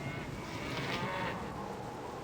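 A cow moos in the Baldur's Gate: Enhanced Edition video game, a single drawn-out lowing call, moderately close and steady, over a faint background hum with no talking.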